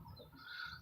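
Birds call outdoors in a brief, faint moment, thin warbling chirps over a soft background hush.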